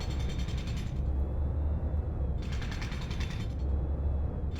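A machine in a game, working like a 3D printer in reverse, removes layers and punches holes with a steady mechanical creaking and ratcheting. The sound surges in repeated bursts of brighter clatter over a constant rumble, with no talking.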